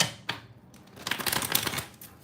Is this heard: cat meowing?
no